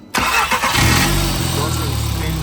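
A turbocharged car engine fitted with an oil cooler cranks and fires up, then settles into a steady, loud idle, with someone talking over it.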